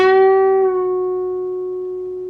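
A single electric guitar note picked on the G string at the 11th fret and bent upward, ringing clear and alone, then easing slightly in pitch and slowly fading as it sustains.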